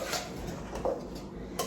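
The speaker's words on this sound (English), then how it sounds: "Okay, so my pan's all scraped out." Metal baking pan scraped out with a utensil while making banana bread, a few short scraping and clinking strokes at close range over steady background noise.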